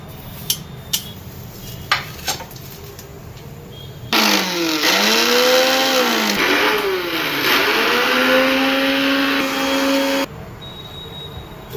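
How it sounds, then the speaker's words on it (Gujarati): Kitchen mixer grinder pulverising dried mint leaves: a few light clicks, then a loud, whining motor that runs about six seconds with its pitch dipping and rising as the load shifts, stopping abruptly, with no talking. "આપણે ફુદીનાને આપણે સૂકવો હતો, એને પીસી નાખીએ."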